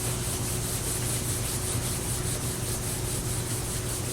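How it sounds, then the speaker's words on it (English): Two hands rub together in a steady, continuous dry friction that stays constant and close throughout, with a faint low hum beneath and no talking. "you can rub your two hands together"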